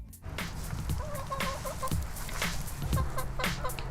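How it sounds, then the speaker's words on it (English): Chickens cluck in an urban backyard garden in New Orleans, several birds clucking close by in a steady, overlapping chatter, with no talking. "More and more urban dwellers are starting to raise chickens in their own backyards and gardens."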